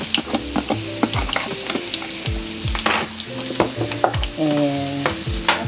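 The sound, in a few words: celery sizzling in melted butter in a pan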